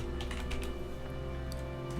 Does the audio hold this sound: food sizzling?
no